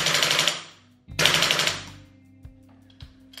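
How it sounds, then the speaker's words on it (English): A GHK M4 airsoft rifle on an HPA gas-blowback conversion fires two loud full-auto bursts close up, each about a second long, separated by a short pause and followed by faint mechanical clicks. "We can do some full auto in this gun."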